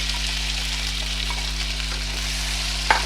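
Potato slices frying in hot ghee with crushed chillies give a steady, close sizzle that fills the clip, with one brief clink near the end.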